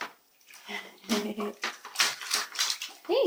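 A child splashes water in a small bathtub, bursts of sloshing and splashing coming in uneven spurts close by, mixed with a young child's vocal sounds and an adult voice.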